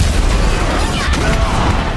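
The Slam ability in RAGE 2 lands with a loud, dense burst of impact noise: booming, crackling debris and explosive rumble that fill the whole two seconds without a break.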